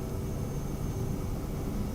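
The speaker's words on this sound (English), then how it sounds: "Prepare for takeoff." An airplane taking off in Flight Simulator 2024, heard as a steady, loud broadband jet roar with a faint whining tone, unbroken throughout.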